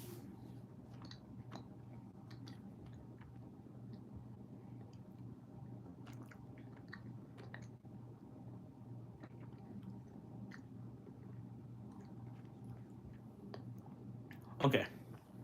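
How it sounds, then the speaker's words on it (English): Close, wet squishing and smacking of someone chewing Starburst candy, a steady soft mouth sound with a louder crinkle or clack near the end. "Give me a second to chew."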